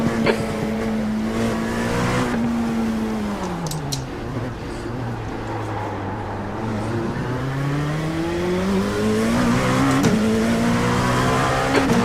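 Race car engines scream around the Long Beach track in an IMSA racing video game, revs rising and falling through gear changes as the car brakes and accelerates, loud and continuous with brief tire squeal.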